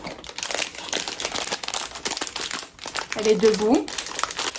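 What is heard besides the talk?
opening a wrapped sticker pack, crinkling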